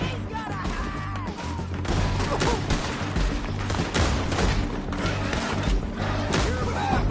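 Gunfire in a Red Dead Redemption 2 town shootout, dense overlapping shots and booms in a chaotic fusillade, loud and continuous with crashing impacts, mixed with game score and occasional shouting.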